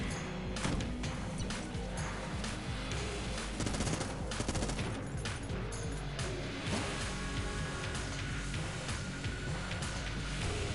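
Vulcan cannon in the video game Enter the Gungeon firing continuously, a dense, loud stream of rapid gunfire with crashing impacts layered over busy game sound throughout.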